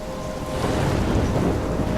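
A thunderstorm in the video game Life is Strange: a low rumble of thunder builds over a steady wash of rain and wind, with no voices.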